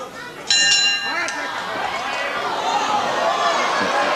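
A round bell rings once in a 1984 UK wrestling match between Marty Jones and Fit Finlay. The bright ding sounds amid crowd noise and is followed by a commentator talking over the arena din.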